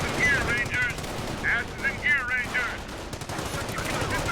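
Machine gun fire in Company of Heroes: loud, rapid bursts of automatic fire with distant shots and battle din, and voices speaking beneath the gunfire.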